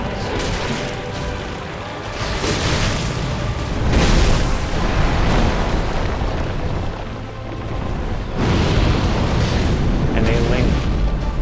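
Fire and toxic breath attacks from a creature named Sim in Dark Souls 2 roar as loud, continuous booming blasts with crackling rushes, swelling in waves over dense game noise, with voices talking underneath.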